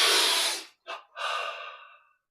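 A deep breath during a yoga breathing exercise: a long, loud, airy exhale close up, then a short sharp intake and a second gradually fading breath, followed by silence.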